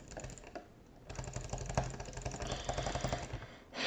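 Rapid mouse clicks in a Scratch clicker game, a dense run of quick, close taps that pause briefly near the start and then continue steadily to the end.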